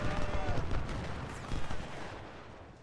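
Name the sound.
artillery fire hitting an enemy unit in the video game Ultimate General: Civil War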